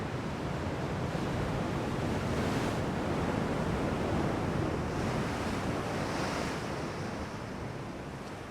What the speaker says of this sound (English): So we just bounce along the waves here.